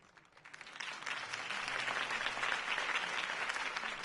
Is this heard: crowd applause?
yes